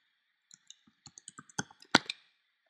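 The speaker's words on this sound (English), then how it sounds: "just click the Create Your Mailing List button" A computer mouse button is clicked in a quiet room, giving a short run of soft close clicks that end in one louder click.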